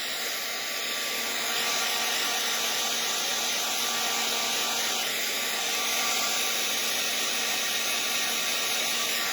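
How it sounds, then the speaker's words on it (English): A heat embossing tool blows steadily on curling card stock during mini album crafting, producing a continuous loud whirring hiss that stays even from start to finish with no talk. "My card is curling, so I need to heat from the other side as well."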